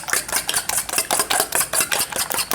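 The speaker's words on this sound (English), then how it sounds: "We're going to add that to the eggs. Get it all in there. Okay, and then quite simply, we're just going to mix these together." Melted butter whisked into eggs in a bowl, a rapid rhythmic series of wet clicking strokes against the side, close and steady with no voices.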